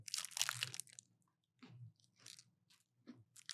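A crunchy chocolate cookie is bitten into and chewed close up, giving a burst of crisp crackling followed by several softer crunching chews with brief pauses, quiet overall and without talk.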